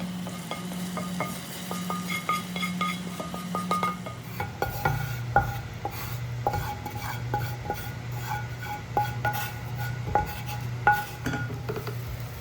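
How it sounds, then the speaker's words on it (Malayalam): Fried tempering with chilli powder poured into okra curry, with a steady hot sizzle, spoon stirring and metal clinks against the pan, close up and without talk. "ഇനിയിപ്പോൾ നമുക്കിത് റെഡിയാക്കി വെച്ചിട്ടുള്ള കറിയിലേക്ക് ഒഴിച്ച് കൊടുക്കാം"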